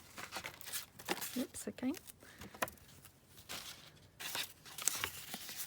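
Scissors snip through burlap trim for a junk journal: several rough, scratchy cuts and rustles of fabric and paper up close, with someone briefly speaking over them.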